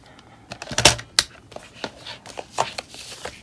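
Scissors snip through pieces of paper during a junk-journal setup, sounding as a few sharp, close crisp cuts with lighter rustling and handling noises between them, no talking.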